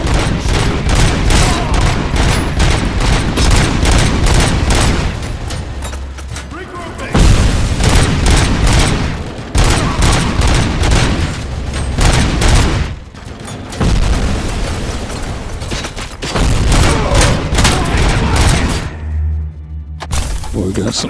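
Heavy gunfire in RoboCop Rogue City, loud and near, with rapid bursts, booming impacts and thuds in dense waves, a couple of brief lulls, and a voice talking in between.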